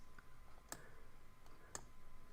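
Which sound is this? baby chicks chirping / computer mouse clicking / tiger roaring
computer mouse clicking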